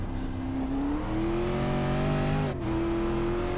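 A V8 Supercar engine revving through the final corner at Phillip Island, its pitch climbing steadily while the throttle is feathered, with a brief dip before it picks up again, close and continuous.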